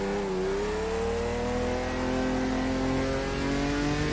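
A six-cylinder race car engine in Automobilista 2 drones steadily at high revs, its smooth, sustained note rising slightly in pitch throughout, loud and close with no talk over it.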